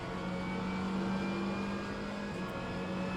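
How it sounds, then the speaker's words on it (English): A Glickenhaus hypercar in the rFactor sim racing game accelerates out of a turn at Bahrain, its engine a steady, loud, rising whine with sustained tonal drone and no voices. "and accelerate out of the turn"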